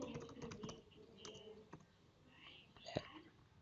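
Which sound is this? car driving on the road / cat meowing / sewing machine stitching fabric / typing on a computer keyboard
typing on a computer keyboard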